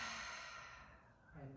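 A long, soft breathy exhale during a hypopressive yoga movement on all fours, close and quiet, tapering off before a faint breath at the end.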